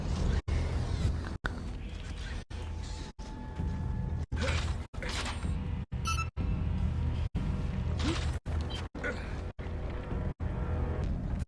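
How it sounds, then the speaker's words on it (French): In the Gears of War Judgment video game, a heavy mechanical door is forced open with a loud, continuous creaking and grinding drone, broken by abrupt cuts and scattered metallic clanks. "Protégez le pote pendant qu'il ouvre cette porte"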